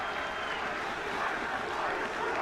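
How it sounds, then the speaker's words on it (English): Home supporters cheer at a school rugby match at the Grey High festival, a dense, continuous crowd roar with applause holding steady throughout. "the crowd is quite fired up with the home supporters"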